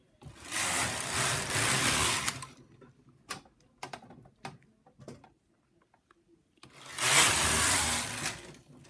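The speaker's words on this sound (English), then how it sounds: "And just carry on knitting full needle rib." A Brother knitting machine carriage with ribber runs across full needle rib in two rough, whooshing passes of a few seconds each, with scattered clicks and taps from handling the machine in between, close and fairly quiet.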